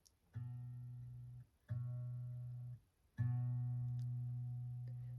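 A single guitar note, A string at the second fret, plucked three times, each ringing and fading before the next, clear and close with no talking.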